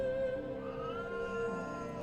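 A cat meows in a drawn-out, wavering call, close and fairly quiet, alone for about two seconds.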